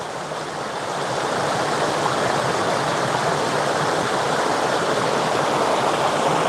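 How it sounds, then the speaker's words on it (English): River water near Chiang Mai, Thailand rushes steadily and loudly close by, a dense, unbroken wash that swells slightly in the first second and then holds even throughout. "look up the river there"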